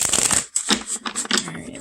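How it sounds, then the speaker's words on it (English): A deck of tarot cards being shuffled, quick riffling and sliding bursts broken by brief pauses and a soft tap, close and fairly loud with no voices. "So I'm going to flip a few and shuffle and see what we get."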